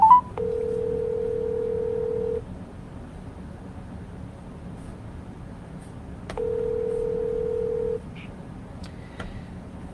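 Telephone dial tone in a handset, a steady hum that sounds twice in separate stretches of about two and six seconds each, with a quiet gap between them and faint background hiss throughout.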